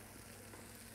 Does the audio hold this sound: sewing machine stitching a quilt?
no